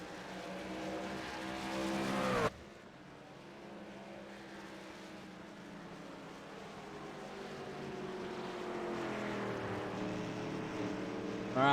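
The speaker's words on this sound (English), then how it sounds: "we'll let Dalton and company here catch up to the pace car" Race cars circling under caution behind a pace car, their engines droning steadily at a distance, with one loud car cutting off sharply early on before the field's hum slowly swells again.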